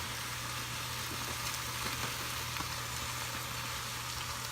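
Spinach stir-frying in oil in a pan gives a steady, close crackling sizzle that runs unbroken and evenly loud with no voices.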